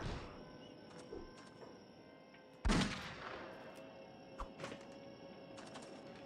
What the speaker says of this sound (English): I love the sound of her sniper rifle too